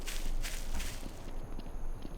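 Footsteps in Garry's Mod fall in an even rhythm, a handful of soft, slightly echoing steps close by, easing off toward the end.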